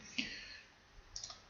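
A few soft, close computer mouse clicks, one single click followed by a quick cluster of light taps after a pause, in an otherwise quiet room.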